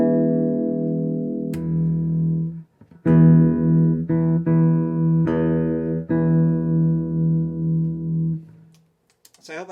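A Peavey T-40 bass plays a sustained E note, first with its pickups out of phase and then in phase, as several long, loud, steady tones close up with brief gaps and a click where the switch is flipped.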